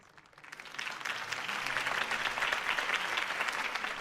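A crowd bursts into applause at a political campaign rally in Batman: The Telltale Series video game, swelling from a quiet start into sustained, dense clapping and cheering that fills the scene.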